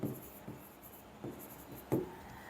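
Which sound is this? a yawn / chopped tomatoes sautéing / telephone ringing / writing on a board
writing on a board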